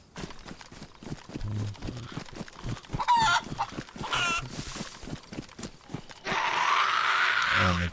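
A chicken clucks in a Livonia survival video game, with two brief bursts of clucking over steady, rhythmic footsteps. A louder rushing noise takes over at the end.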